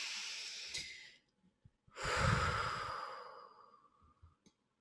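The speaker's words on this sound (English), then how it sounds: "Let's all take a deep breath." A person draws a long, airy breath in, pauses, then lets out a fuller, louder sighing exhale that trails off slowly, close to the microphone in a quiet room.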